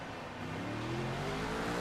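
A GT3 race car accelerates out of the pit lane in a racing video game, its engine note rising steadily in pitch as it revs up, loud and continuous with no talking.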